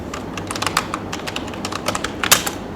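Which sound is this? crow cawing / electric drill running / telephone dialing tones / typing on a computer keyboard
typing on a computer keyboard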